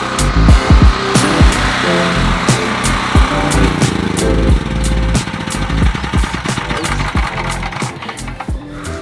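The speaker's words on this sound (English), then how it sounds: "Turning off the generator" An off-grid generator engine runs in Panama, a loud steady mechanical drone with rapid rattling ticks and irregular knocks throughout, close and continuous with no voices.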